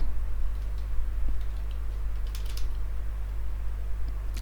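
Light typing on a computer keyboard, a few sparse soft key clicks over a steady low electrical hum, with a brief cluster of taps in the middle.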